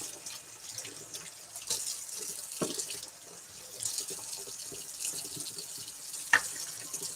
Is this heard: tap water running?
yes